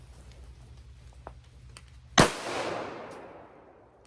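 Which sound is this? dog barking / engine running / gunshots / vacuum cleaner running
gunshots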